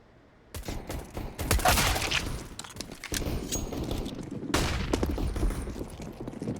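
Counter-Strike gunfire on the Vertigo map during a DreamHack Open Summer match: dense bursts of rapid rifle shots, loud and close, with a short lull between two long volleys.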